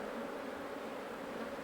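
Honeybees droning steadily at hives in the Paraná delta islands, a dense continuous hum with no break, moderately close and fairly even in level throughout.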